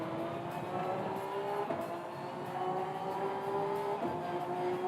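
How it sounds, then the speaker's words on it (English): A race car in the Gran Turismo 7 racing game revs hard through its gears, a loud, steady engine drone climbing in pitch with brief shifts and dips, without talk. "Revving it all the way out."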